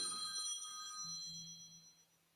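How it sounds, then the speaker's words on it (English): A telephone rings like a house phone, a faint bright electronic trill heard once for about a second, quiet and somewhat distant with low background noise. "That's a big fine for me if y'all heard my phone ring."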